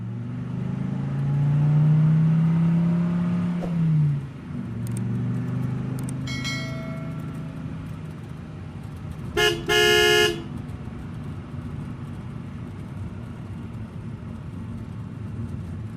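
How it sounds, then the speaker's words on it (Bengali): A cartoon car hums along with a low engine drone and a rising rev early on, then gives a few quick horn toots in a short burst before the engine settles back to a quieter steady rumble. "আমার গাড়িতে করে বাড়ি ফিরছি"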